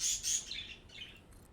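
Screaming birds in the video game Satisfactory let out a few shrill, piercing chirps and squawks in quick succession, moderately faint and fading toward the end.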